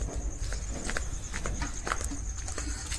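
A horse walks at a rural cow shelter, its hooves giving a few faint, irregular clip-clops over a steady outdoor background hum.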